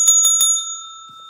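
A bicycle-style bell rung by a livestreamer dings three times in quick succession, bright and close, then its metallic ring lingers and fades away.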